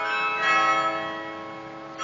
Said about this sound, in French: c'est le carillon automatique qui rythme la vie des Douaisiens